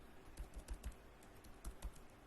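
Computer keyboard typing in short uneven bursts, a handful of sharp clicks and clacks near the mic, then a pause and a few more strokes, fairly quiet with no talk.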